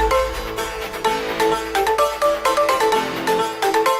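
A phone ringtone plays while a call goes to Chiru mama, a bright repeating melodic tune in short rhythmic phrases, loud and clear with no voices over it.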